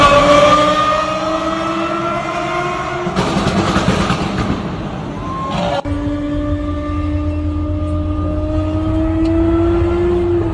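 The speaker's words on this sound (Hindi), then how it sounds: "कार को बेतहाशा स्पीड में आरोपी दौड़ाता रहा।" A Lamborghini driven at high speed in a road stunt, its engine note rising in pitch as it accelerates, loud and near, with a burst of harsher roaring noise midway before the climbing whine resumes.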